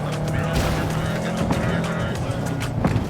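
A car in the game Cyberpunk 2077 drives through Night City with a dense, continuous engine and road roar, steady and close, layered with faint background music and game ambience.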